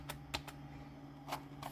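Keys tapped on a computer keyboard attached to an old Pentium 4 machine, a handful of sparse clicks spread over a low hum.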